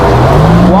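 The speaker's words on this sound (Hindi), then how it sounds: "वाह क्या गाड़ी है यार" A car passes close by on a street, its engine note loud and rising in pitch over a brief moment, with faint voices nearby.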